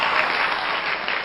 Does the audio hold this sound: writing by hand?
no